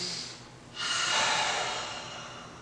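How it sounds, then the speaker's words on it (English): A group of people breathes deeply from the belly, a faint airy inhale followed by a louder, longer breath out with a breathy rush. "So let's all try to do some belly breathing. And we're going to go in through our nose and out through our mouth."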